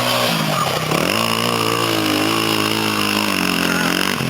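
Honda XR100 motorcycle engine held at high revs, a loud buzzing single-cylinder note that dips briefly then climbs and holds steady close by.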